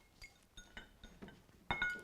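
Blueberries drop one by one into beverage glasses, each landing with a faint, close glassy tick, spaced irregularly, with a louder clink near the end and no talk.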